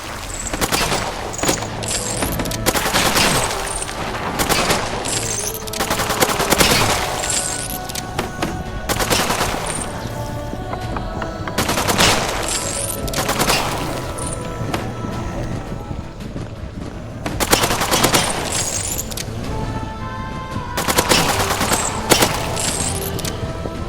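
Machine gun fire in a zombie video game, heard as loud, sustained bursts of rapid shots repeating across the stretch, with brief pauses between volleys.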